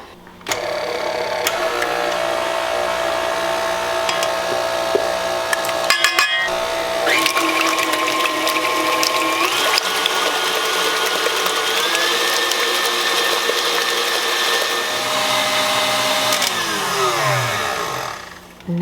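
An electric mixer whirs steadily as it whips egg white bread batter, a loud close mechanical drone that shifts pitch as speed changes, cutting out briefly midway and winding down at the end.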